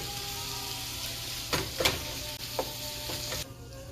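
Ground beef sizzles and browns in a hot pan, a steady frying hiss close by with a few sharper clatters from a utensil stirring the meat.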